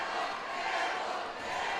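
A big home crowd cheers and roars at a Sidney high school boys varsity basketball game against Piqua, a steady, dense wash of crowd noise throughout with no clear gaps.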